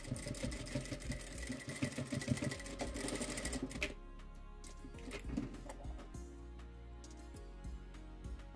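A sewing machine runs a topstitch over a seam on a fabric shopper bag, a fast steady mechanical rattle that stops after about four seconds, leaving a quieter hum and some light handling noises.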